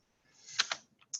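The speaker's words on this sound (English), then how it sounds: "I'm typing because I'm also tracking who's showing up" Someone typing on a computer keyboard during an online meetup, a short run of a few crisp key clicks close by, quiet and alone.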